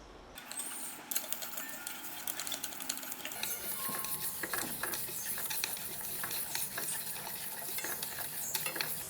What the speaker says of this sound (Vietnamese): Mình sẽ cho cái phần gạo và phần nếp này vào rang.